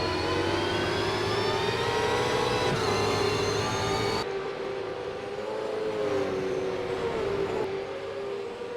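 Super2 Series race cars scream around turn 2 at Mount Panorama, a sustained high-pitched engine whine that shifts in pitch as the cars pass close together, loud and continuous without any talk.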